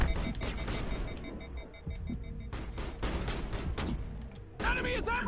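Rapid gunfire in the video game Mass Effect crackles in dense bursts with brief lulls, mixed with game effects and beeping tones, fairly close.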